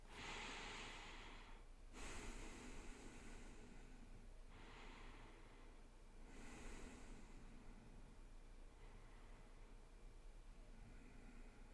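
Slow, deep breaths during a mindfulness exercise, each long airy inhale and exhale drawn close to the microphone, spaced several seconds apart in a quiet room with no talking.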